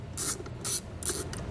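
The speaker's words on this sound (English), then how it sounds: "So I'm going to remove that nut using a 10mm." A ratchet with a 10mm socket backs off a nut while a towed-vehicle battery charge wire kit is being installed, giving three short bursts of clicking strokes with brief pauses between them, close and fairly quiet.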